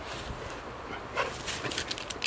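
A puppy whimpering and giving a few short yips and barks outdoors, close and fairly loud, amid rustling and background noise.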